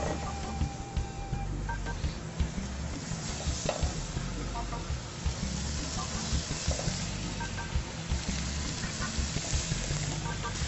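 Meat sears in a very hot, dry pan in a restaurant kitchen, a steady sizzle and crackle running the whole time, with occasional scrapes and clatter of utensils stirring the food nearby.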